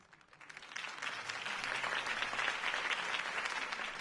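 A video game crowd breaks into sustained applause after a mayoral campaign speech, building quickly and staying steady and loud, with dense clapping and no speech over it.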